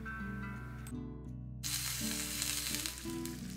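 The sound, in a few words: chopped peppers frying in a pan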